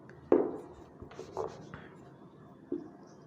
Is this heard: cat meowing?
no